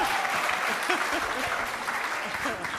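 A book-event audience at a National Writers Series talk bursts into dense, sustained applause, many hands clapping at once and filling the room steadily, with some speech mixed in.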